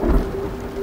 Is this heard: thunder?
yes